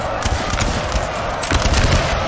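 Dense crackling volleys of musket fire during close melee in Napoleon Total War, a continuous rolling clatter of overlapping shots with no pause and a few sharper bursts standing out.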